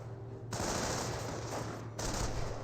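Rapid rifle and machine-gun fire in a Company of Heroes battle, a dense continuous crackle of shots with no talking.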